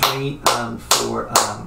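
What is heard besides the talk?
hands clapping an eighth-note rhythm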